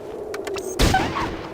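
Gunfire in the tactical game Fallout Tactics: a sharp shot bursts out near the middle, followed by a short rattling tail, over faint background tones.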